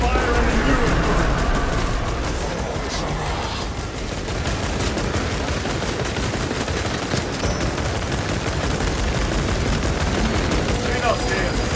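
Sustained, loud gunfire aimed at the Neurothrope in the video game Warhammer 40,000: Space Marine 2, a dense continuous battle roar of shots and blasts with voices mixed in.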